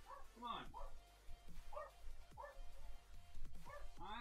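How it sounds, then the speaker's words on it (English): A pet dog named Charlie yips, whimpers and gives short barks in an irregular run of high whiny cries, close by, with a person talking over them. "I gotta calm the dog down."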